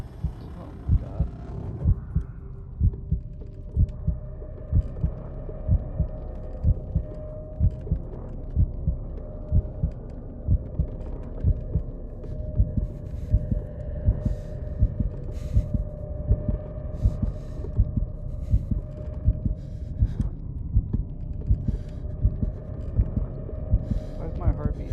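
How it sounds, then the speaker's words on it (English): A steady, throbbing heartbeat sound effect from the Call of Cthulhu video game pulses repeatedly over a low hum for the whole stretch, with a player talking at times over it. "Why is my heartbeat actually pumping"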